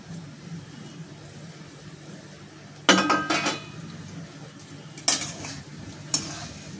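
A spoon stirring salted boiled potatoes in a pan for vada pav filling, giving soft scraping and a few sharp metal clinks against the pan over a low kitchen hum.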